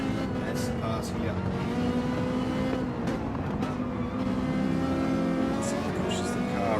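A Ferrari GT3 race car in a sim racing game at the Red Bull Ring, its engine droning steadily with shifting pitch throughout, heard under continuous commentary.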